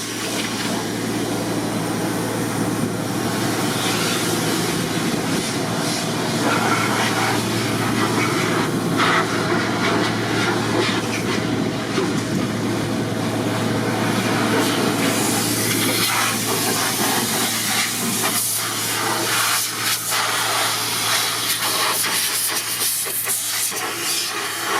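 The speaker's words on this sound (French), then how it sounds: "Donc là, on écoute la moissonneuse." A combine harvester engine runs steadily just after starting, a loud continuous hissing drone with a low hum that stays even throughout, no talking.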